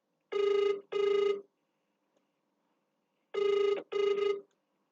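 A telephone rings in two double bursts, each pair of electronic trills separated by a pause of about two seconds, loud and close with no voices.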